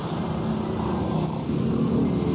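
Motor vehicles pass along a roadside while a Suzuki Smash motorcycle is parked nearby, a continuous loud rumble of traffic noise with no talking.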